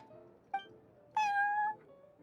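Inside a video game, a cat gives a short chirp and then a longer, clear meow, close and distinct. Quiet background music plays underneath.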